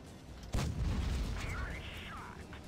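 A tank cannon fires in World of Tanks Blitz and the shell strikes the ground, giving one sudden deep boom that rolls off into a fading rumble, with a commentator's voice over it.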